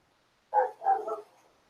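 A little red dog giving two quick barks in a row, the second one trailing off into a soft whine, close by and otherwise quiet.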